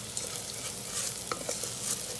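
Tur dal is stirred into a fried spice mixture in a pot, giving a steady soft sizzle with scraping spoon strokes and a few light clinks. Nobody talks.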